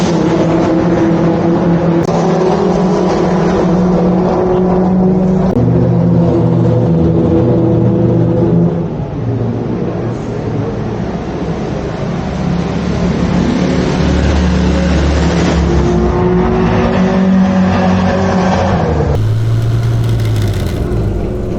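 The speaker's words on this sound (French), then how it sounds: "C'est une MEP X27 de 1971." A 1971 MEP X27 classic car at an outdoor classic car gathering, its engine droning loudly and steadily, rising and falling through revs as it drives close by, with a sharper shift near the end.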